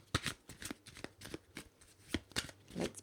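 Animal oracle cards being shuffled by hand, a quick run of crisp riffling slaps and flutters in a quiet room, close and fairly soft with no talking.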